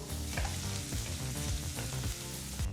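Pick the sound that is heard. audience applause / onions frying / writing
onions frying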